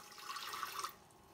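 Tap water runs briefly into a container, a soft splashing gush that lasts under a second and then stops, heard faintly and alone.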